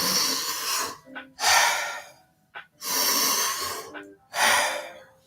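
Deep breathing during a Wim Hof breathing exercise: four long, loud, close airy breaths in a steady rhythm, each followed by a shorter faint inhale or gasp, with no talking.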